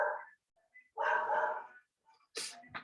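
A dog barking somewhere nearby, a few separate barks and yips in short bursts with gaps between, moderately faint.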